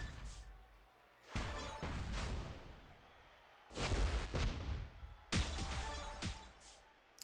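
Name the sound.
Juggernaut gems exploding, destroying blast gems, video game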